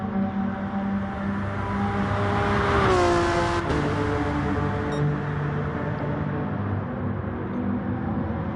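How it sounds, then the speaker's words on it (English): Race cars lapping a circuit in the Pacific Rim Championship, a loud engine note rising and falling as a car revs and passes near, with other engines droning behind and no talk. "We'll be just looking at cars going round."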